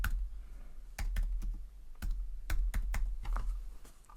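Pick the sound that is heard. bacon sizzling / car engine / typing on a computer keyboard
typing on a computer keyboard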